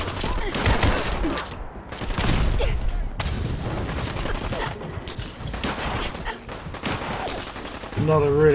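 Gunfire rattles in the Fallout 4 Nuka World video game, with dense bursts of rapid shots and booms coming in clusters, loud and close, broken by brief pauses.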